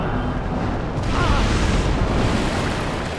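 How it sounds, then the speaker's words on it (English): A big energy blast fired by an enemy in Dark Souls (Daughters of Ash mod) lands as a loud, sustained booming roar, broad and rumbling for several seconds, with no voices over it. "Oh, he fired a bigger energy blast."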